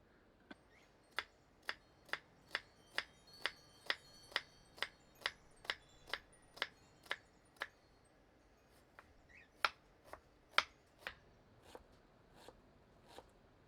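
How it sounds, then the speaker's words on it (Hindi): A knife finely chops an onion on a board, a steady run of crisp, evenly spaced taps that pauses briefly and resumes, close and clear with no talking. "दूसरी प्याज को बारीक काट लेते हैं।"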